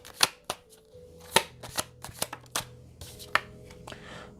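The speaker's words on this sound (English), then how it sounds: "Let's start pulling cards on these." Tarot cards are shuffled and pulled from the deck in a close, crisp flurry of riffles and snaps, with a few sharp slaps as cards hit the table and no voices.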